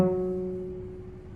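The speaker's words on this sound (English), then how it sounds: "pluck your third finger on the D string and see if it sounds like this" A single plucked note on a cello's D string, stopped with the third finger, ringing alone and fading gradually over a second and a half.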